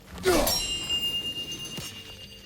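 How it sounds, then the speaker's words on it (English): A bright chime rings once in God of War Ragnarok, its clear metallic tone striking sharply and then fading over a couple of seconds, alone without talk. "Good to see the chimes working as intended."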